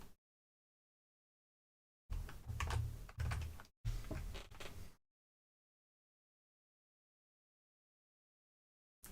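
Two short bursts of rapid keystrokes on a computer keyboard type out a single word, separated by a brief pause and surrounded by long stretches of silence.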